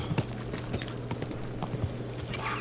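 Horse hooves clip-clop at a steady walking rhythm in the video game Kingdom Come Deliverance 2, close and moderately loud over low ambient background, with no one talking.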